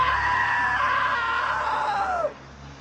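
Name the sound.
scream in video game What Remains of Edith Finch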